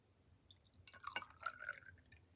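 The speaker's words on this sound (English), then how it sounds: "I'm going to pour some whiskey right now" Whiskey trickling and dripping into a small mason jar, a faint liquid pour with a few bright splashes and drips over about a second and a half, quiet and close.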